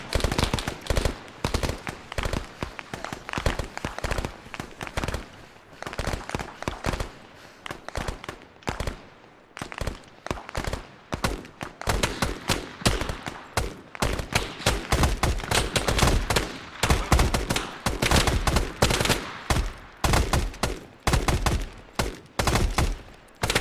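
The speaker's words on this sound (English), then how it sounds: "Red team, open fire." Sustained gunfire in the ARMA video game, dense bursts of automatic fire and rapid overlapping shots rattling almost without pause for over twenty seconds, loud and close.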